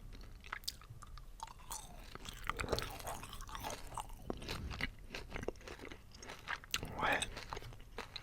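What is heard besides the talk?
chewing yellow halal gummy candy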